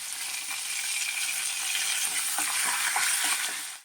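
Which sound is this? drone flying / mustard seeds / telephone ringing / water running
mustard seeds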